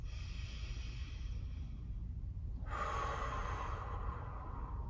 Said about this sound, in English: So we're gonna take a couple of nice, long, deep belly breaths.